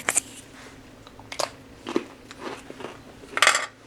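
Bites into a hard, crispy Russian military ration cracker give several sharp, separate crunches spread over a few seconds, with quieter chewing between them.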